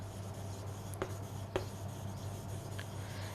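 Soft strokes of chalk or marker on a classroom board, two or three short taps and scrapes spaced apart over a quiet room hum, faint and close.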